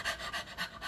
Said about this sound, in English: maybe you've been breathing like this